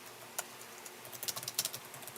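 Quick, uneven bursts of key clicks on a Lenovo ThinkPad X230 laptop keyboard, sparse at first and then clustering into a faster run of close, fairly quiet taps.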